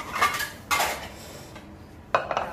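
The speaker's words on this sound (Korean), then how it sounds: "저는 그냥 한번 설거지를 들어가도록 할게요" Dishes, pots and pans clatter and clink in a kitchen sink during Korean cooking practice, in three short bursts: a long rattle, a second louder burst, then a quick pair of knocks.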